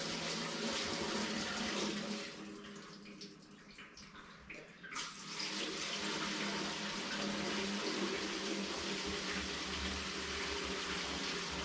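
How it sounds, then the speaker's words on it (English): Fuel gushing out through the opened fuel tank valve of a Case 830 tractor, a steady loud rushing pour that dips briefly then surges back, continuous and close. "I'm going to put a little fuel in there and just open this valve and flush it out"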